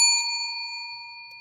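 A single bright bell strike rings out clearly and close, its pure tone sustaining and slowly fading with no talk over it.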